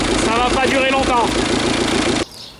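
A Jeep Cherokee XJ engine runs steadily after a restart, a loud, rough mid-pitched idle with heavy vibration and someone talking over it, then it cuts off abruptly near the end, leaving a quieter background.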